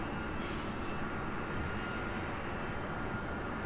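A Boeing 747-8 Intercontinental jet airliner at LAX, bound for Frankfurt, gives a steady, loud engine roar that holds constant throughout, heard alone without talk.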